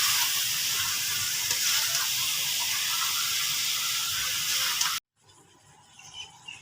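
Chicken and kachnar being stirred together in ghee in a hot kadai, a loud, steady frying hiss that cuts off abruptly, followed by quieter scraping and clatter.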